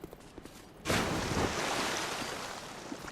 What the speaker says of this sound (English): Look at that massive splash sound, chat.